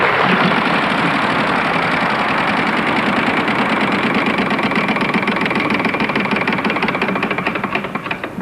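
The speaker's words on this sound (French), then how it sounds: "c'est vous qui lancez la roue" A prize wheel on a 1996 French TV game show is spun, producing a loud, rapid stream of ticking clicks that runs steadily before thinning and slowing toward the end.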